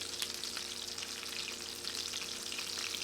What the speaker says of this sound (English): It's splattering a little bit due to the wet pork mole filling